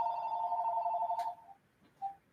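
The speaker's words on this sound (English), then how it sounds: "Hold on, that's the phone again." A telephone rings with a steady two-tone electronic trill for over a second, then stops, followed by a brief faint beep; quiet and somewhat distant.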